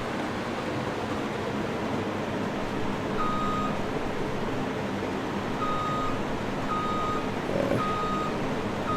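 A combine harvester in Farming Simulator 17 sounds regular, evenly spaced reversing beeps over a loud, steady engine drone, with no talk.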